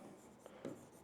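Chalk or marker strokes on a board during a classroom lesson, a few faint, short scratchy marks in quick succession, quiet and close.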